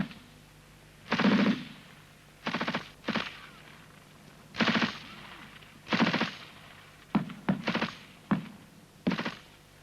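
Cold War British army infantry section firing rifles and a machine gun: repeated loud bursts of automatic fire and single cracks at irregular intervals, some rapid clusters, with no talking.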